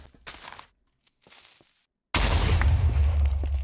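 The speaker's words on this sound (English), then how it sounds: "And now I hope that we can make an explosion." A sudden loud blast erupts in the Minecraft video game after a few faint clicks and brief quiet, then rumbles on as a dense sustained roar to the end.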